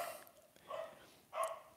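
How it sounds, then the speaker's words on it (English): Puppy dogs bark in short, loud yaps, with two or three distinct barks over faint background hiss. "Loud puppy dogs."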